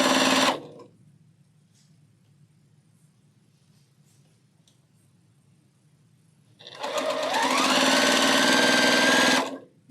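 A sewing machine runs stay stitching along the bias edges of a quilt block, in a short burst at the start, then a pause with low hum, then a steady sustained run of close, loud mechanical stitching.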